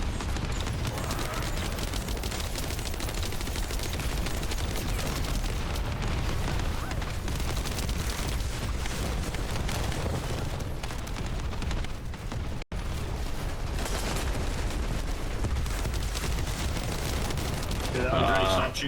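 Dense, continuous gunfire and explosive booms from the looter-shooter video game The First Descendant, a loud unbroken barrage of shots and blasts filling the whole stretch, with a brief dropout partway through.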